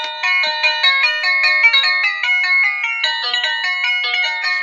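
A Kid Connection electric keyboard plays its third built-in demo tune, a bright, beeping synthesized melody of steady stepping notes that carries on loudly and clearly with nothing else heard.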